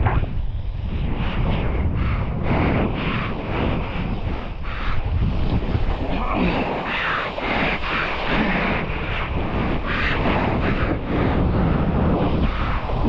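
Rushing ocean waves and strong gusting wind while windsurfing on new sails, loud and continuous with heavy wind buffeting the microphone and water surging past.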